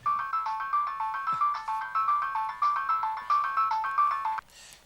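A mobile phone ringtone plays a repeating electronic melody loud and close for about four seconds, then cuts off abruptly with a brief rustle.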